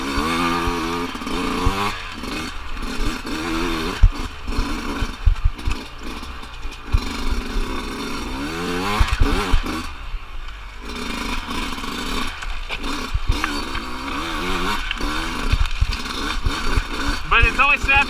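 A 2020 Sherco 125 dirt bike engine revs up and down under varying throttle, buzzy two-stroke-like rasp rising and falling close by, mixed with someone talking throughout.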